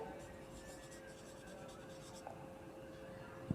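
Chalk or a marker scratches across a board in quick strokes while a triangle is drawn, a faint rhythmic scraping with a soft tap at the end and a low steady hum beneath.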